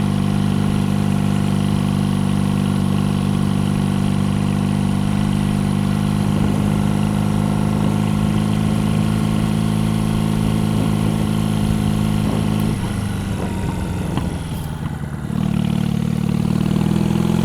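A 50-year-old Moto Guzzi motorcycle engine runs steadily at a low, throbbing idle, close and continuous, with a brief shift in tone near the end before settling again.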